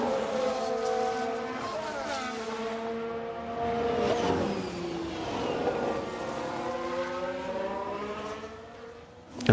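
Formula 1 cars race at the Hungaroring in F1 Manager 22, engines whining high and shifting pitch as several cars pass and accelerate, loud and sustained, with commentary voices underneath.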